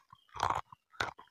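Close, crisp crunching as someone bites into and chews homemade crispy fried onion sticks, with two loud crunchy bursts separated by brief softer chews.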